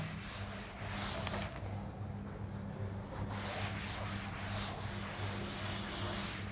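A duster or eraser rubs chalk or marker off a classroom board during a maths lesson: a steady, close scraping hiss with slight rhythmic strokes over a low hum.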